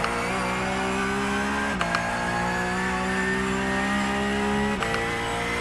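A race car engine in a sim racing game, driven with sim pedals, drones loud and steady at high revs, with two brief breaks in the roar where gears shift, and no voices over it.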